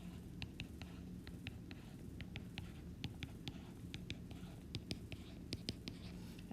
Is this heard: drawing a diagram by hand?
yes